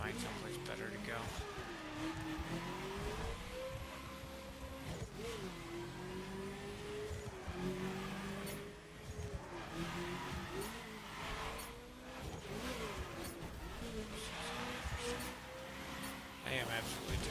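Car drifting on narrow roads in The Crew, a steady revving engine drone rising and falling with throttle changes, with bursts of tire squeal and talk layered over it throughout.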